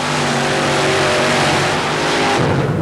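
A modified Chevy 427 cubic-inch paddle-tire mud racer roars loudly at sustained high revs through the whole stretch, with a steady low drone that shifts slightly near the end.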